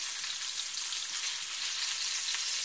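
Fresh Irish trout fries skin side down in a pan with a steady, dense, crackling hiss, close and continuous, with no voices over it.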